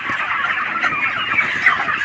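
A flock of 32-day-old broiler chickens on a farm clucks and chirps continuously, a dense overlapping chatter of many birds at moderate loudness with no talking.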